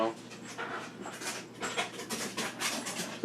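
A dog pants quickly and rhythmically close by, with soft whimpering mixed into the breaths over a quiet background.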